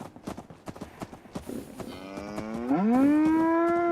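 Brahmin cattle in Fallout 4 give a loud, drawn-out moo that rises and holds near the end, preceded by a series of sharp clip-clop hoof and footstep taps.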